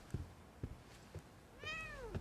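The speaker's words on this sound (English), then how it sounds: "Oh, more cats." Cats meow in a movie scene, a few short calls spaced through the moment followed by a longer, drawn-out wavering meow near the end, heard fairly close and clear.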